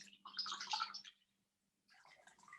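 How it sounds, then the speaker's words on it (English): Cloth soaking in a basin of hand-hot water, two short bursts of splashing and trickling close by, separated by a brief quiet pause. "you take your cloth and then just soak it in the water"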